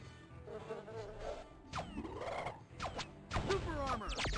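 Insect-like buzzing from the bee people in the Nintendo 64 game Power Rangers Lightspeed Rescue, mixed with sweeping zaps and hits from game combat, steady and fairly loud throughout.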